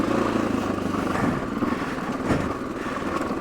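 A trail motorcycle climbs a dirt trail, its engine droning steadily with slight throttle swells, close and loud throughout with no talking.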